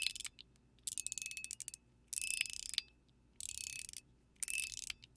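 A MateEDC fidget shell with swappable inserts makes close, dry ratcheting clicks in five rapid bursts separated by short pauses, alone and fairly quiet.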